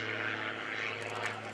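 An aerobatic propeller airplane tumbling nose over tail at a 2013 lake air show, its engine droning steadily at a distance with a slight wavering pitch, faint and continuous.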